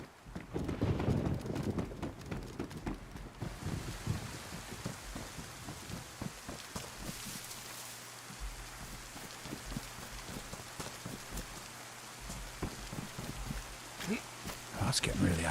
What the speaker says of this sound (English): Thunder comes.